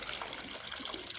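Tap water running steadily into a duck's water container, a soft continuous splashing gush, faint and unbroken with no voices over it.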